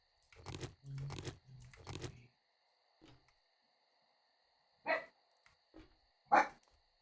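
A Papillon dog barking indoors, a quick cluster of three or four sharp barks, then a pause, a soft yip, and two more isolated barks with quiet gaps in between.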